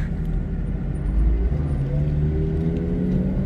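A Mercedes C63 rumbles nearby with a steady, deep engine drone and road noise that swells slightly as it moves.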